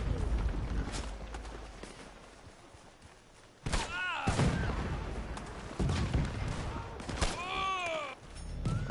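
Pistol shots ring out in a shooter video game, sharp loud reports with thuds and ringing tails, interspersed with game sounds over a dense background.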